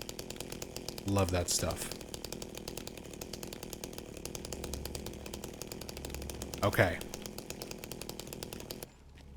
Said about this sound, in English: Put the chainsaw in your pocket.